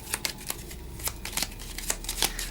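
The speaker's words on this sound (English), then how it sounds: "So I'm going to shuffle this like so" A deck of game cards is shuffled by hand, producing a rapid series of crisp riffling flicks and taps, close up and clear, with no talking.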